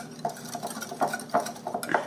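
A spoon mixes allspice into apple bread batter in a bowl, giving soft, irregular scraping and light clinking strokes that repeat at a steady hand pace, close and fairly quiet.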